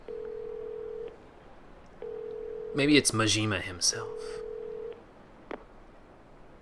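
A telephone call in the video game Yakuza 0: long, steady ringback tones repeat with pauses between them, someone talks over one gap, and a short click follows.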